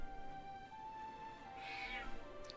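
A cat meows inside the video game Lord of the Rings Online, a single drawn-out call rising clearly over a steady game soundscape and tonal hum, with a faint click near the end.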